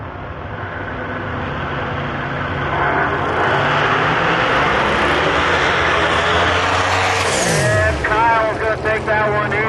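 Drag cars launch hard down the Milan Dragway strip in a loud, building roar of high-powered engines that swells and then sweeps downward as one spins its tires, with an announcer talking over the noise.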